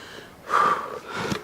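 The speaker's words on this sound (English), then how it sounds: "As I'm sitting here panting, trying to catch my breath" A person sits panting and catching their breath after spreading compost, with a few close, heavy breaths and a gasping inhale, no talking.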